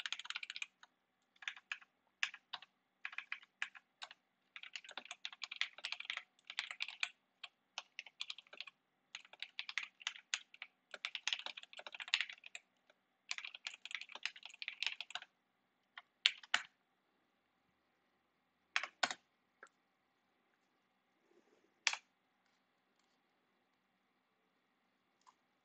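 Rapid bursts of typing on a computer keyboard clatter close and quiet in a still room, then thin out to a few isolated key presses and clicks.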